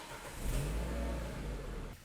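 A Renault Clio RS Gordini engine catches and revs up steadily, a loud, close, sustained engine roar lasting about two seconds before dropping off at the end.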